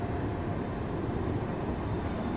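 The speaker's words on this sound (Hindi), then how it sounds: "जो कि एक एल्को लोकोमोटिव है, जिसको इंडियन रेलवेज में टोस्टर के नाम से भी जानते हैं" WDP-3 Alco diesel locomotive, known as the Toaster, hauling a train into Najibabad Junction; a steady low rail rumble with wheel clatter, continuous and fairly faint throughout.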